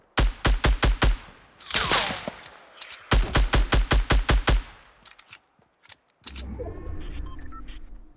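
Rapid bursts of gunfire in Fortnite, loud and close, with two fast volleys of repeated shots and scattered single shots between them, then a rumbling noise toward the end.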